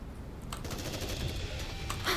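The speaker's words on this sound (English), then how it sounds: "Gunfire! Let's go check it out!" Gunfire in the game NIKKE, with several sharp shots and rattling bursts popping over a rumbling background, moderately loud and heard without speech.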